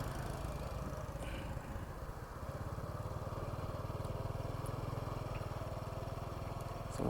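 A motorbike engine putters steadily at a low pitch while riding through Nong Nooch Tropical Gardens in Thailand, close and fairly quiet, holding an even rhythm for several seconds with a slight swell at the end.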